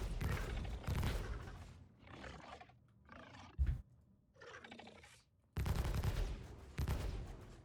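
Ship weapons fire in bursts in the Star Citizen space game, loud roaring volleys separated by short gaps, heavy and booming.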